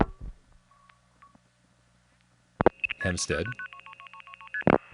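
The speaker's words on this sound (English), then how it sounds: "It's now dialing 7 digits through a step tandem" Telephone switching tones on a long-distance call as seven digits are dialed through a step-by-step tandem office: quiet clicks at first, then a dense burst of multifrequency pulses and signaling tones, close and fairly loud, with a voice speaking briefly at the start.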